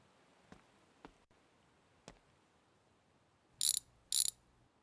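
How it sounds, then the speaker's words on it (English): A wrench on a car's brake caliper in a garage: a few faint isolated clicks, then two loud, short bursts of rapid ratcheting close by, with no talking. "Let's grab our wrench."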